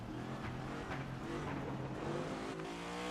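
Race car engine from a NASCAR video game drones steadily at constant loudness for a few seconds, with a sustained harmonic whine and no talking.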